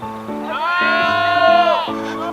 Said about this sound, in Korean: 30마리는 좋게 돼 보이는 염소떼